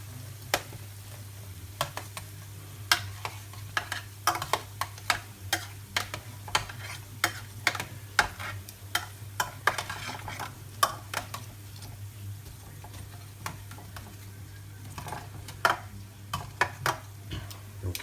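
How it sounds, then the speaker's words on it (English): Roast potatoes being turned over in a hot pan, with repeated scraping clicks and knocks of a utensil at irregular intervals over a steady low hum and faint sizzle. "Potatoes are looking good. Just going to turn them. Flip them over."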